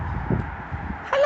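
Crow cawing outdoors on a morning walk to work, a few hoarse low calls spread over a second with a brighter harsh call at the end, fairly close and with no talk over it.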